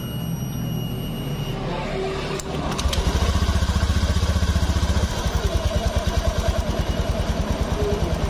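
A rebuilt 2015 Honda BeAT X scooter engine is cranked and catches, settling into a loud, close, rhythmic idle with a steady pulsing chug and mechanical clatter.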